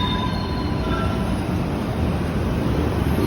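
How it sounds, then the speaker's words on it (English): A train rolls past at close range, a loud, continuous rumble and roar of wheels on rails that holds steady throughout, with faint high squealing over it and no voices. "Oh, here comes a train. Double trains."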